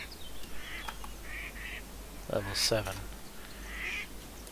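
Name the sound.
ducks quacking, from the video game Dwarrow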